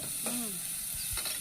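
Mutton masala sizzles in the pan as it is sautéed for a mutton suthu koluppu curry, a soft steady frying hiss with a few faint stirring scrapes, fairly quiet and close.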